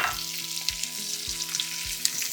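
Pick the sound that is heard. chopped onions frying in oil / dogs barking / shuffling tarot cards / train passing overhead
chopped onions frying in oil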